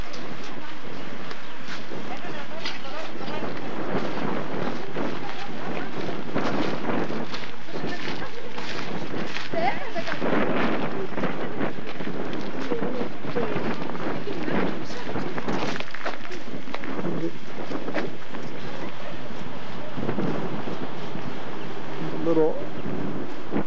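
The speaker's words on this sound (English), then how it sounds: "The wind blowing pretty hard." Strong wind on a pebble beach in Greece roars in gusty, buffeting bursts across the microphone, loud and close throughout, with waves and occasional talk faintly beneath.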